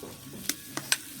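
Ginger drops into warm oil in a hot wok, with a faint low sizzle broken by three sharp, bright taps.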